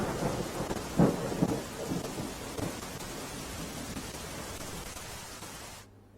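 Heavy rain pours steadily in Ahmedabad city, with a low thunder rumble near the start, then cuts off suddenly.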